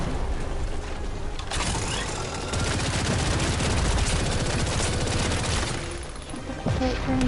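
Dense, sustained gunfire in the video game The First Descendant, loud and continuous rapid bursts that swell in the middle and stay heavy throughout, with no voice over it.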